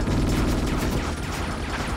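A grenade explosion in the PS2 game Ghost in the Shell: Stand Alone Complex, a loud, dense blast with heavy low-end rumble and crackling debris that fills the whole moment and fades only slightly.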